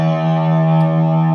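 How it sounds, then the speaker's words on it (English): An electric guitar sustains a single low E note through distortion, a steady, thick, buzzing tone held loud and even from start to finish with no voice over it. "The first note I'm going to play is this E. Now, let me just knock a bit of distortion off on that."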